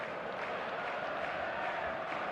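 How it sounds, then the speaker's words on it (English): A stadium crowd in the eFootball 2025 video game gives off a steady, dense roar and murmur, loud and unbroken, with no single voices standing out. "There's a real expectant buzz in the stadium"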